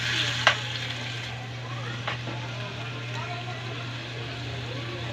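Spicy shrimp fry in a home-kitchen pan with a steady low sizzle, a few sharp utensil clinks over it and a voice talking intermittently.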